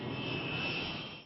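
Steady drone of B-47 bomber jet engines, a loud continuous roar with a high whine on top, held for a moment before easing off, no talking.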